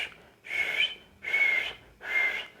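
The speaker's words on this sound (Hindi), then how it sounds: "कभी कभी सीटी भी यानी विसल करना पड़ता है" A person whistles three short, steady notes at an even pace, each one clear and close with brief gaps of silence between.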